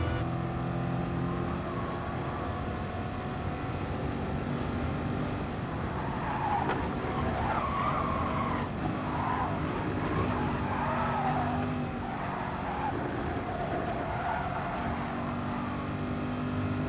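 Video game race cars at speed, with a sustained engine whine and roar, tire skidding and squeals rising and falling over about seventeen seconds, fairly quiet overall with no voices.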